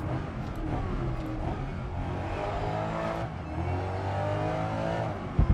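Racing car engine in the GRID Legends video game, revving steadily and holding high as the car pulls clear of the pack, loud and continuous with shifting pitch and no talk.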